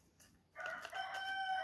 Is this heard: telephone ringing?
no